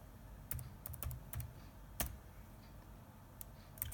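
Someone types an email on a computer keyboard in short, irregular bursts of soft, close key clicks over a quiet background hum, with pauses between the strokes.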